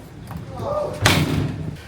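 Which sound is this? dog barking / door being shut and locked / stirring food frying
door being shut and locked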